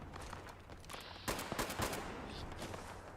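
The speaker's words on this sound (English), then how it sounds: "I shot somebody's grenade" Gunfire in the video game Fallout 76, a quick cluster of close, sharp shots over a noisy game ambience, followed by a dense rumbling tail.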